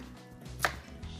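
A knife roughly chopping carrot on a cutting board in a kitchen, a single sharp chop standing out against quiet room noise, with no talking.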